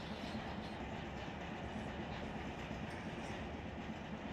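A freight train rolling slowly on a gentle downgrade in the Run8 train simulator, a steady low rumble with soft wheel clatter, continuous and fairly quiet with no talk.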